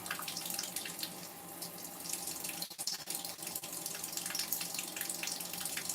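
A tap runs almost cold into a sink, a steady close splashing rush that carries on without a break and never drops away, with no voices.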